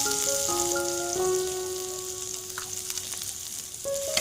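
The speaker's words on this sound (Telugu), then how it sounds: "ఇప్పుడు మనం దీంట్లో చారు మసాలా వేసేసి ఫ్రై చేసేసి చారులో పోసేస్తాము" Rasam masala sizzling in hot oil in a steel kadai, a dense continuous crackle and hiss close by, with a steady tonal whine running underneath and no voices.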